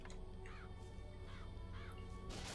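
Three raspy crow caws from the Murder of Crows vigor in Bioshock Infinite, evenly spaced and fairly near, over a low game ambience.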